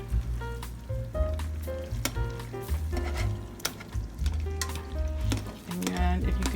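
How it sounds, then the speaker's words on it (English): Butter sizzles and pops steadily in a hot pan while a whisk breaks it up, with close, rhythmic scraping and clinking strokes running under the frying. "start using a whisk to kind of break it up a little"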